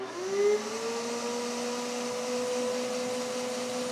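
A shop vacuum pulls suction through an Eastwood hose fitted to a sanding block for blocking automotive body filler. A steady whining drone rises in pitch as it spins up, then holds an even hum throughout.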